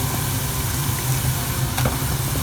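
Chicken pieces hit frying onions in a pan for a Chettinad chicken curry, giving a dense, steady sizzle close by with a couple of sharper crackles and no talking.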